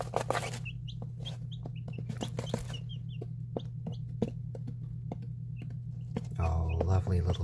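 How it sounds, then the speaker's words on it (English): Baby chicks give contented little peeps, many short high chirps scattered irregularly over a steady low hum, closer and busier toward the end. "they like giving out these contented little peeps"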